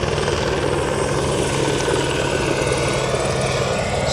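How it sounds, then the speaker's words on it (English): An airplane passes overhead outdoors, a steady broad engine roar holding at constant loudness throughout with no voices over it. "wait till this plane passes"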